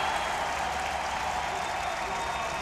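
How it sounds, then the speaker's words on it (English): Loud Czech Republic fan crowd cheering at a World Baseball Classic game against China, a steady dense roar of applause and voices sustained throughout without breaks. "Their crowd is so loud to our right."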